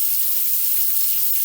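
Cold tap water runs into a lab measuring container, a steady hissing stream from the faucet that stays loud and unbroken throughout, with no voices over it.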